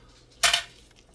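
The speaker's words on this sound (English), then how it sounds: "Let's check out these utensils." Metal utensils from a Polish military MRE ration clink together in one short, bright jangle, close and brief against near silence.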